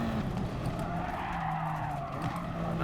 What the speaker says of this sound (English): And all I did is go off the track